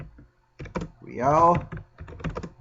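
Someone types on a computer keyboard in an ICT class, close sharp clicks in quick bursts around a brief spoken word.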